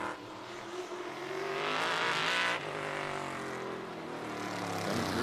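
An outlaw race car on its final qualifying lap at Auburndale Speedway, Florida, a loud continuous engine roar that swells as the car passes nearby, then holds a steady high drone.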